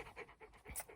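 Ozzy the dog pants hot and quick, with rapid rhythmic breaths close to the microphone, soft and fairly faint.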